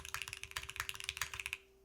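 Rapid keystrokes on a Class65 mechanical keyboard with a PP plate and hot-swap build, soft, bouncy clacks in quick irregular bursts, close and fairly quiet, with a faint steady hum beneath.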